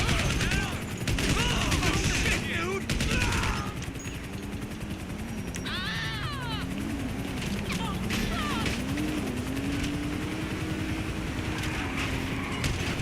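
Gunfire crackles in GTA 5 Online, with a burst of rapid shots early on over a droning engine, then scattered bangs continuing under the steady background noise.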